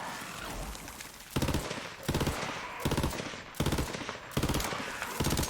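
Burst-fire gun shooting in Borderlands 3: repeated rapid bursts of several loud cracks each, coming every second or so, with brief gaps of quieter ambience between bursts.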